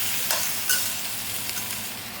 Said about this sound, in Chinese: 跟鸡蛋一起翻炒一下